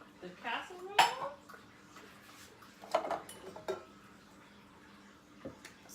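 Shredded sweet potato mixture scraped from a bowl into a casserole dish, giving a few clattering knocks and clinks of utensils against dishware, moderately close with quiet gaps between.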